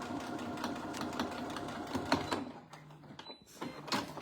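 Sewing machine top stitching fabric while assembling a shirt, front and back facings joined: a steady rapid mechanical whir with rhythmic needle clatter running for a few seconds, briefly slowing near the end, close and fairly loud.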